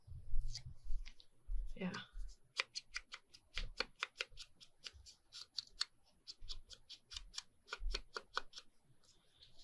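Paper is torn off a green journal in a run of quick, sharp ripping and crinkling bursts, close by, with a brief voice and a few low thumps.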